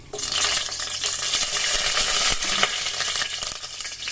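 Cinnamon and cloves sizzle in hot oil for pulao, a steady broadband fry with occasional stirring clinks, close and fairly loud throughout without speech.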